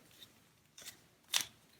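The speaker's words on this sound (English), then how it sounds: "You hear that clicking." A loose MoYu WeiChuang magnetic Pyraminx is turned, giving a few sharp, close clicks at uneven intervals, the last one loudest, against near silence.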